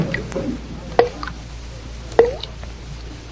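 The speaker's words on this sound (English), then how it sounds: "I'm sure the faucet is dripping" A bathroom faucet drips as a radio drama sound effect: three separate wet plops about a second apart, close and clear over a quiet room hiss.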